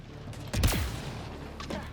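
Enemy gunfire in the Mass Effect Andromeda video game, a burst of shots with a sharp descending whiz, followed by a lingering rumble and fainter shots, moderately loud with no talking.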